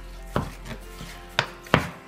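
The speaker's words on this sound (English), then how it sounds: "Just run the knife through it like that." A kitchen knife slices through cooked turkey on a cutting board for a warm Italian salad, giving a few sharp, close chops spaced unevenly, with soft scraping between them.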